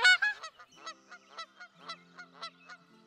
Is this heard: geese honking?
yes